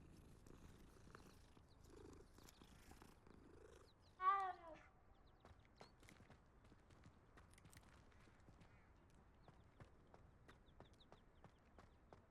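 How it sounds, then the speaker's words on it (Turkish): A cat in the video game Hogwarts Legacy purrs faintly and continuously, with one short, clear meow partway through, heard alone and quiet. "Kedi."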